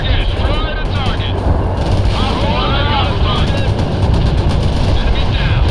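Gunfire and combat noise in the video game World in Conflict, a dense continuous roar of shots and explosions with voices talking over it.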